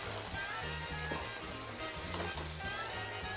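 Sauce sizzles hard in a hot pan with garlic, a steady loud crackling hiss that runs unbroken, joined by faint low tapping that repeats underneath.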